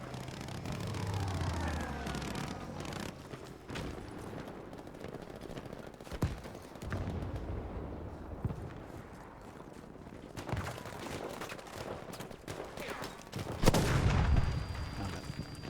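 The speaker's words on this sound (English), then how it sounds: "That's a tank round. A shell." Tank shells fire in a Battlefield V battle, heavy booms punctuating a continuous din of gunfire and rumble, with a few sharper blasts standing out from the background.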